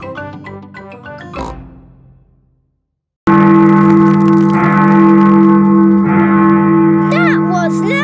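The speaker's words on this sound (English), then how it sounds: "That is the sound of Big Ben telling us the time." A cartoon Big Ben clock bell rings out loud and alone in a steady, sustained, echoing tone after a brief pause, following a short stretch of speech and music.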